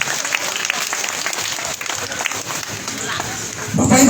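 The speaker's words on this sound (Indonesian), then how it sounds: "kita berikan aplaus dulu kepada Bapak Rudi Sirwa" A crowd at an evening political rally in Indonesia claps steadily for an honoured guest, a dense sustained applause that swells louder near the end, with a voice over it.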